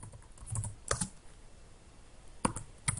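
Computer keyboard typing options into a form builder, a few scattered sharp key clicks with short pauses between them and firmer presses near the end, close and alone in a quiet room.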